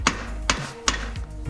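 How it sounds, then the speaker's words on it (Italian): A hammer strikes a bicycle crankset, sounding as three sharp, evenly spaced metallic blows close by with short ringing decay, no talk over them. "secondo me ha bisogno di un bel colpetto di martello"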